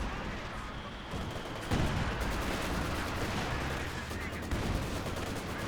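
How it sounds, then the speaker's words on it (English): Obersoldaten infantry fire away in a Company of Heroes 2 battle, a dense, continuous crackle of rifle and machine-gun shots with heavier booming reports mixed in, loud and sustained, with no voices over it. "Obersatzen firing away against the conscripts."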